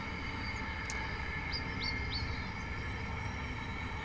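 Bird song drifting in through an open window, a few faint high chirps heard at a distance over a steady low hum of background noise.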